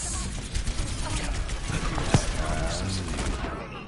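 Rapid gunfire bursts from a competitive video game match, crackling under continuous excited commentary with a sharp shot standing out midway.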